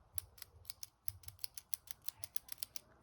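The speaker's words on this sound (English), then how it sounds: "It's an okay click. It's kind of like a little junky, a little mushy, but it works." Retractable pen fitted with its original refill and spring, clicked repeatedly in a fairly steady rhythm, about a dozen or more sharp, close clicks with a slightly mushy, hollow low thump under several of them.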